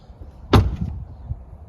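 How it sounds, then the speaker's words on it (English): A Tesla Model 3 car door with an upgraded door seal shuts once with a solid, close thud, followed by a short low rumble as it settles. "Shut the door, it's much solid."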